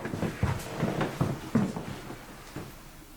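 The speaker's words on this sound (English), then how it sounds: "the knocking was just them walking along the corridor there" Dull knocks and thuds from people walking along a corridor indoors, a string of irregular muffled impacts at a moderate distance with faint room noise between them.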